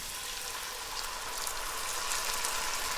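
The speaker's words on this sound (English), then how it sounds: "we're going to deglaze the pan with 1 cup of a dry white wine" Pan sizzling steadily as a cup of dry white Sauvignon Blanc deglazes it after cooking chicken and pancetta, a close, even hiss with crackle throughout and no voices.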